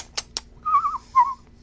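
A person whistles a bird-call imitation: two quick soft clicks, then a sliding warbling whistle followed by a shorter repeated whistled note, close and clear in a quiet room.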